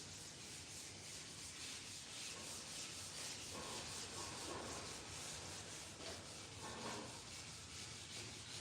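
Wet sanding of the clear coat on a hot rod Dart with a flow coat, a steady close rubbing and scrubbing that runs continuously with slight rhythmic swells.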